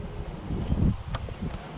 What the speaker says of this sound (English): And again guys, apologies for the wind.